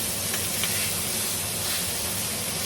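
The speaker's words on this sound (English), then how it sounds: "Let that butter melt." Butter melts in a pan on a low stove before steaks go in, giving a continuous close hiss and gentle sizzle with no talking.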